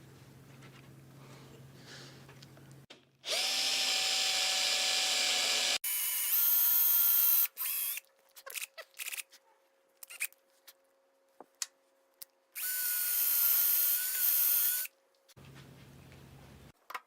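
Power drill boring holes with a bit into a wooden rocker of a Maloof-style rocking chair, several loud sustained whirring bursts of a few seconds each, separated by quieter stretches with clicks and handling knocks.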